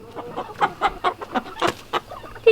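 A farm chicken clucking close by, a rapid series of about ten short clucks in quick rhythm, loud and alone.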